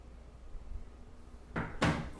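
A kitchen drawer opening or closing, two quick wooden knocks in succession near the end after a stretch of quiet room tone, close and moderately loud.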